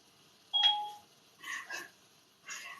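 A text message notification sounds in a kitchen, one clear two-tone beep followed by a few softer, muffled noises.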